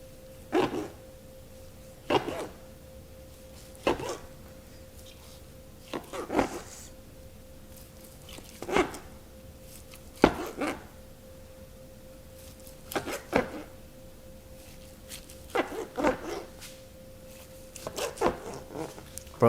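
A Franklin knife slicing through a smoked turkey breast cooked on a Pit Boss 1600, a series of short, crisp scraping strokes repeating every couple of seconds over a steady low background tone.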